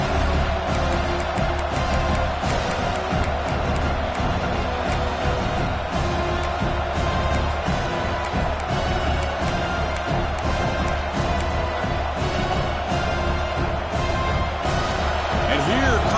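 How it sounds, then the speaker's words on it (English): A dense stadium crowd roars continuously during a football red zone defensive stand, a steady wall of cheering and noise that never lets up, with faint commentary underneath. "This crowd is trying to inspire this defense to make a big red zone stop."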